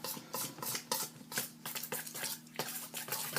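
A knife cuts and scrapes through apple pie pastry ingredients in a bowl, making a steady series of soft rasping strokes and light clinks, close and fairly quiet.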